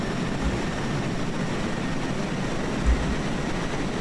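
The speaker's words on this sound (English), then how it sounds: "we have new jet sounds" Jet engines in the Kerbal Space Program video game, with sound from the Rocket Sound Enhancement mod, give a steady broadband roar, constant and fairly loud, with a low rumble underneath.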